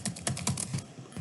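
Keys clatter on a computer keyboard in quick, uneven bursts of clicks, close and fairly quiet, with no voices.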